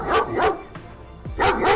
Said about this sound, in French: 2 chiens de garde féroces sont apparus, aboyant bruyamment et se précipitant sur lui